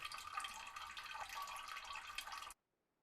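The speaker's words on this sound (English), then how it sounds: "Let's go ahead, get us some water." Water pours steadily in a base-building video game, a continuous splashing that runs for about two and a half seconds and then cuts off into silence.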